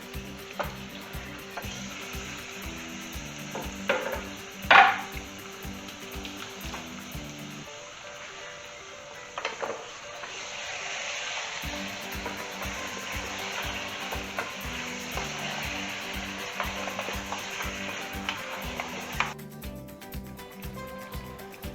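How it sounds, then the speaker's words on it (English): Lamb pieces fry and sizzle loudly in a hot pan with occasional stirring scrapes, a continuous crackling hiss over soft background music. "We will fry it properly."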